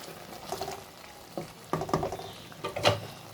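Chicken for green masala biryani being dried out over a full flame, with quiet sizzling and stirring scrapes in short bursts, faint and close, with no talk.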